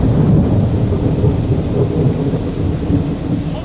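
Heavy rain pours down in a thunderstorm, a loud dense continuous roar with low rumbling underneath, steady throughout with no voices.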